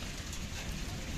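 Heavy rain pours down steadily in the evening, a dense, constant hiss with a low rumble, and no talking.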